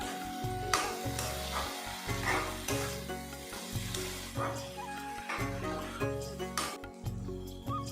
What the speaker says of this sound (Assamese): এইখিনি আকৌ এবাৰ ভালদৰে লৰাই লৈছোঁ